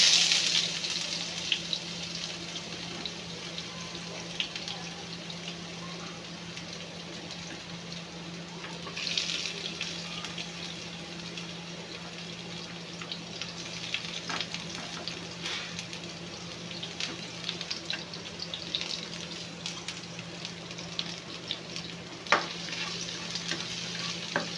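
Garlic frying in hot cooking oil in a pan for a home-style Filipino dish, a steady, soft, prolonged sizzle with occasional scrapes and stirring clicks, and no talking.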